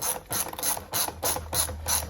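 A ratchet clicks in quick rhythmic bursts while tightening engine nuts on a Škoda Favorit after a head gasket refit, about eight close, crisp ratcheting strokes with no talk.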